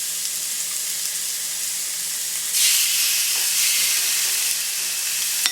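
Chicken breast sizzling on a hot grill, a steady loud hiss that swells brighter midway as the meat settles, with no talking over it.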